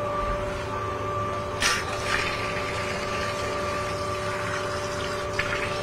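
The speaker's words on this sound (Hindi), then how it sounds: "अच्छा, अभी नल से पानी आ रहा है?" A household tap in an Indian home runs steadily, delivering dirty, foamy water that pours in a continuous gush. A pump-like hum runs underneath the flow the whole time, with a couple of brief splashes.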